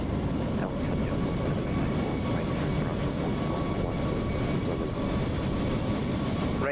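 An Alitalia airliner landing at Kai Tak in a flight simulator, a steady, loud engine roar and rumble held at the same level throughout with no pause.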